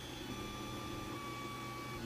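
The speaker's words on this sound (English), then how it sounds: "I printed it out on my Ender 3 Pro 3D printer" An Ender 3 Pro 3D printer prints PLA filament at 220 degrees, giving a steady, even hum of stepper motors and fan with high whining tones held across the whole span, close and continuous.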